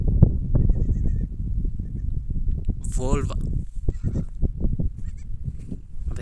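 A goat that has just given birth, umbilical cord still hanging, bleats in a wavering cry near the middle, with people talking throughout and rustling around it.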